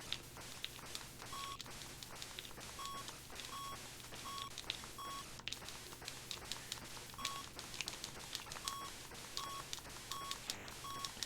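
Arcade video game music with sharp snare-like hits and short whistle-like tones, a steady repeating pattern of bright blips and clicks played quietly and alone throughout.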